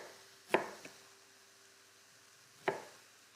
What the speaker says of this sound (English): we're just going to chop it into little pieces